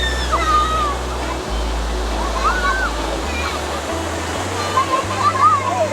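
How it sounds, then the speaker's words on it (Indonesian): Mini waterfall at Krueng Kaleung in Lamno, Aceh Jaya, pouring in a constant loud rush of splashing water, with faint voices and whistles heard over the roar. "Wow, sisi air terjunnya."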